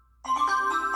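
A phone ringtone in a detective heist video game starts abruptly after a brief silence and plays as a sustained electronic tone with a warbling pulse, close and clear.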